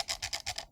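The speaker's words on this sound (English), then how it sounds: "Got the scroll wheel." Divina FK-B computer mouse scroll wheel rolled in a quick run of about six soft, rapid ratcheting bursts, close and fairly faint, with no voices.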